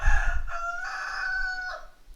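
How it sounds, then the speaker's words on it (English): A rooster crows once from a little way off, a clear drawn-out cock-a-doodle-doo of about two seconds rising and holding steady before trailing away, with a faint low rumble underneath at the start. "Chicken saying hello today."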